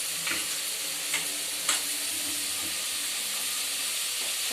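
Potatoes fry in a pan with a constant close sizzle, broken by a few brief scraping stirs early on.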